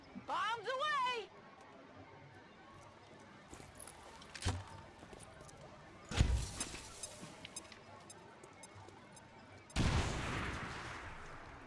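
Explosions and gunfire from the video game XCOM 2, with several sharp loud blasts spread across the scene, a burst of noisy fire near the end, and game sounds and voices in between.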